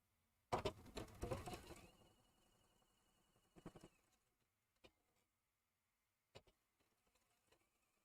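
A quilting machine stitches through several fabric layers in a dense burst of rapid clatter near the start, then turns quiet apart from a few scattered clicks and short mechanical bursts.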